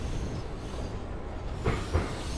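Train in the Running Train game rumbling along from a standstill, a continuous low rolling roar with faint rhythmic clatter and a couple of louder thumps near the end, no talking.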